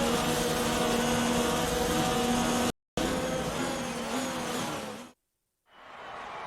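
A racing car in an Xbox racing video game pulls into the pit lane at the Brazilian Grand Prix, its engine a loud, steady drone with tonal whine, cutting out briefly, returning, then stopping before a fainter engine rises again.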